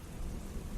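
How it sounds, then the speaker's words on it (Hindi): Rain with rumbling thunder falling on the tin roof of a small roadside tea stall, a steady low wash of drops and deep rumble filling the short moment with no voices. "उसके बाद सिर्फ बारिश का सुर था"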